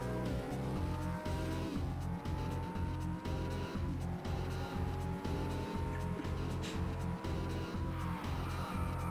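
Cars in a racing video game drift and scrape along walls, a loud continuous engine drone with rhythmic pulses and tire squeal under game music, with no talk.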